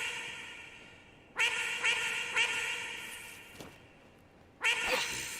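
Duck quacks in the video game Fallout 4 come as a few faint, nasal bursts: three close together, then a gap, then one more, over a quiet game background.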